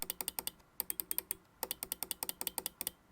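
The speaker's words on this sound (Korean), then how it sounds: "클릭음 또 비교해볼까요? 지슈라2입니다." Rapid bursts of crisp, light clicks from the buttons of a Logitech G Pro X Superlight 2 wireless gaming mouse with optical switches, close and bright, grouped in fast runs separated by short pauses.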